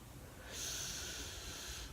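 A single nasal inhale through a stuffed-up nose during a yoga flow, a soft hissing snort-like breath starting halfway through and holding steady, close and quiet with no talk.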